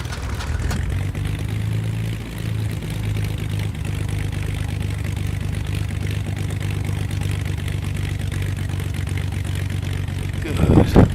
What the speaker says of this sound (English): prop the right engine